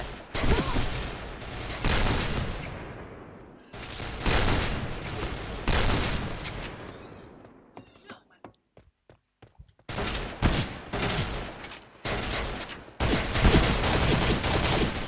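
Rapid bursts of gunfire from the Point Blank video game, loud and dense, broken by a short near-silent gap with a few isolated sharp cracks before heavy firing resumes.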